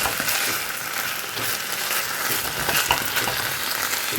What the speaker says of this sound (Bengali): এটা একটু সটে করব, বেশিক্ষণ না